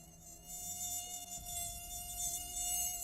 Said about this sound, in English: Sounds like a mosquito. Is that a mosquito?